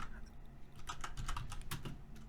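Typing code on a computer keyboard for an Odin and Raylib game project: steady, close, rapid key clicks in a dense run over a low background hum.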